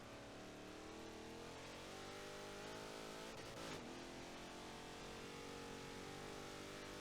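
Trans Am race cars at Sebring in Forza 7, a continuous droning engine whine with rising and shifting pitch as a car passes midway, steady and fairly distant-sounding throughout, no talking.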